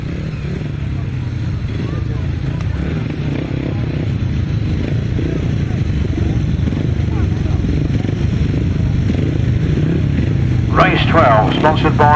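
Grasstrack racing solo motorcycles of 500cc class roar together in a steady, dense engine drone, with a brief higher rising burst near the end and a voice talking over it.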